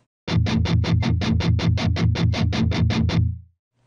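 A quick, even run of about fifteen short plucked guitar harmonics on the note E, evenly spaced and bright, played back alone before ending in silence.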